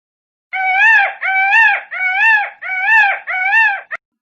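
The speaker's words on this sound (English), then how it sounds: "Peacock." A peacock giving a series of five loud, wailing, nasal calls in quick succession, each rising and falling in pitch, ending in a brief clipped sixth note, clear and alone against silence.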